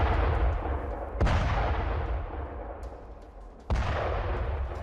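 Heavy FAB-3000 bomb strikes from a Russian attack on Donetsk: three loud, deep booming blasts, each a sharp onset followed by a long rumbling decay, spaced a second or two apart, with no talking.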